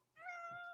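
A pet cat named Schroeder gives a single short, tonal meow, faint and close, in an otherwise quiet room.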